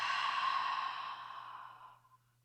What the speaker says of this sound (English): Exhale through the mouth.